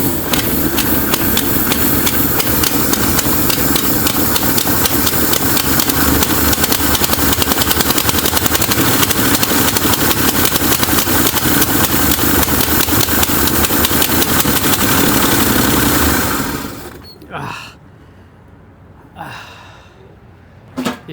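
A 1966 Mustang engine cranks, catches and idles loudly and steadily for about sixteen seconds, then shuts off, leaving faint clicks and mechanical noises with a brief sharp knock at the end.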